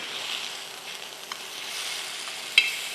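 Mint chicken fries in a pan over medium heat, giving a steady, even sizzle with a couple of small sharp pops.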